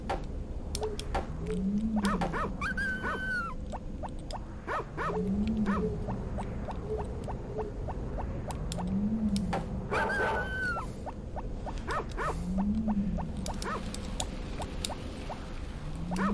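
Wild dog barking at farm animals in the Harvest Moon: Friends of Mineral Town video game, heard as repeated short electronic barks at a steady interval over looping background game music and ticking effects.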